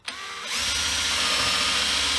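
A power drill re-drilling plugged holes in a Les Paul guitar body, starting with a short bite and then a steady, loud whine that runs on unbroken until it stops abruptly.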